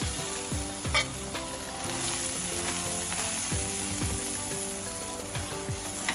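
Vegetables for mie goreng sizzle steadily in hot oil in a pan, with repeated scraping stirs and utensil knocks over a constant close frying hiss, no talking.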